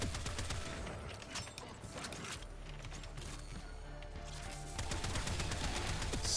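A weapon firing in the video game Warframe, with rapid, repeated shots in quick bursts over a low game background, moderately loud and continuing through most of the stretch.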